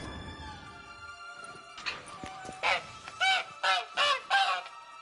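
A caged bird in The Witcher 3 gives a run of loud, honking goose-like calls, about five in steady succession after a few quieter scrapes and clicks, heard alone.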